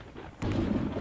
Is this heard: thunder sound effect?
yes